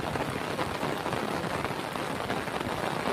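Heavy rain falls without pause outdoors near a village and forest, making a dense, steady hiss of countless drops with no gaps or other sounds.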